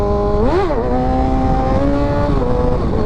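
A 600cc sportbike engine revs loudly and close, rising sharply in a quick blip as the front wheel pops up, then holding a steady high drone and easing slightly.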